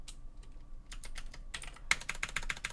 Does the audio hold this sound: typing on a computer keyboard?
yes